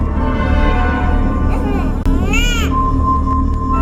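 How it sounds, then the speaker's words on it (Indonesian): A baby cries loudly and continuously in a rice barn, the wail rising and bending in pitch, heard over a dense, steady background drone. "Heti pun mendengar suara tangisan bayi dari arah lumbung padi."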